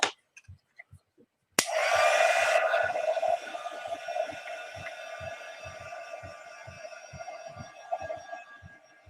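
A hair dryer blows on chocolate finish paint on a textured chipboard craft anchor, switching on abruptly after a few quiet knocks and then whirring steadily with a high whine and slowly easing airflow.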